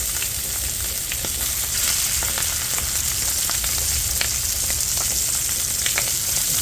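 Italian sausage browning in a hot pan for chicken scarpariello, with a steady, close, continuous sizzle and crackle, scattered small pops and spits throughout, and no talking.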